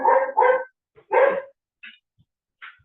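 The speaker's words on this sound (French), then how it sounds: "Ça, c'est Lolita. Je présente un de mes chiens." Lolita, a dog, barks three loud close woofs, two in quick succession then one more, followed by a couple of faint high yips and silence.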